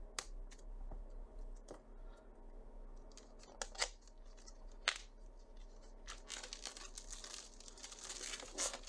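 Very thick shrink wrap on a Catharsis board game box being handled, with faint, stiff crinkling, small ticks and snipping sounds rising toward the end. No voices.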